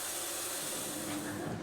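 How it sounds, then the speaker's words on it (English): A facial steamer hisses steadily during a spa treatment on a man's face, a continuous broad airy rush at close range with a faint mechanical undertone and no talking. "First, Gabriel's face is treated to a relaxing steam infusion."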